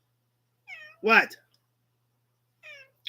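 A grey house cat meows once, a loud, clear call at close range, with someone talking briefly before and after it.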